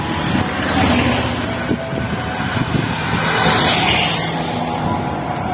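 Loud, steady road traffic noise, a continuous rumble and whoosh of passing cars on a street near a high school, with no pauses.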